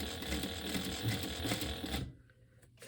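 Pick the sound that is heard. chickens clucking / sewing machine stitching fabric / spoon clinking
sewing machine stitching fabric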